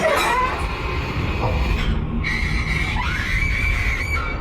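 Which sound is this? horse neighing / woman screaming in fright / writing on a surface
woman screaming in fright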